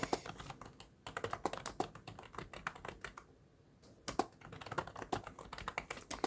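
Fingers type quickly on a computer keyboard, a dense, quiet run of light key clicks with a brief pause in the middle, then the tapping picks up again.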